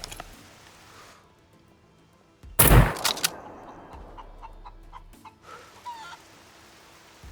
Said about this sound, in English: There was a chicken. There was indeed a chicken.